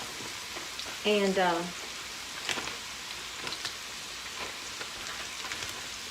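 Fresh garden okra fries in an iron skillet over medium-high heat, browning with a soft, steady sizzle and crackle throughout, while a voice speaks briefly near the start.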